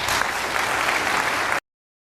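An audience applauds steadily to welcome a professor onto the stage, a dense, sustained clapping that fills the room at close range and then stops abruptly.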